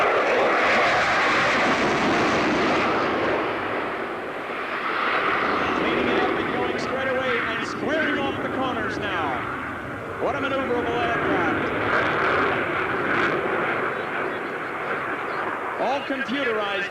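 A demonstration aircraft roars past an airshow crowd at Abbotsford International Airshow in 1986, its engine noise loud and steady throughout while an announcer talks over it.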